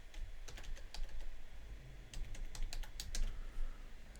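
A password is typed on a computer keyboard, with scattered close key clicks coming in small clusters over a low steady hum, faint and unhurried, with no voices.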